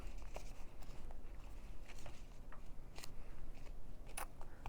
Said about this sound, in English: when I cut a stamp out like that